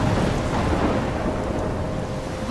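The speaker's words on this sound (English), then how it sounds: "I'm trapped in a storm?" Thunderstorm in the video game Life is Strange: a steady, dense roar of rain and rumbling thunder fills the whole stretch, loud and continuous with no voices over it.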